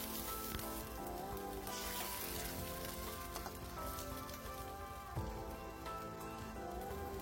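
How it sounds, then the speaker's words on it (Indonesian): Water poured into a pan of stir-fried capcay vegetables sets off a steady, loud sizzling hiss that fills the whole stretch, with crackling spatter throughout and no talk. "Ini saya masukkan air secukupnya aja."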